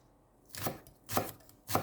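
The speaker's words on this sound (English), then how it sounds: "Remove the roots and the other end of the spring onion and then chop as finely." A knife chops spring onion finely on a board, giving three crisp, evenly spaced strikes, close and alone with no talk.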